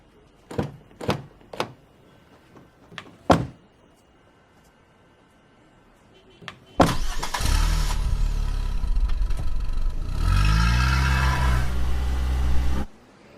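A few sharp door clunks and knocks come first; then a police vehicle's engine starts abruptly and runs loudly and steadily as it moves off, before cutting out near the end.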